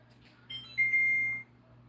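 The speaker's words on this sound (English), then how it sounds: "the alarm can stop going off" A kitchen alarm gives a short electronic beep, a steady high tone lasting under a second, moderately loud over a quiet room hum.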